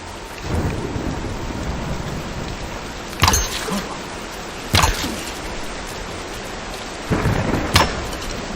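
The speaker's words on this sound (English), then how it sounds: "Nah, let's wait out the storm." Thunderstorm in the video game Tomb Raider: steady rain hiss with several sharp thunder cracks spread across the stretch, one pair close together near the end, and no voices.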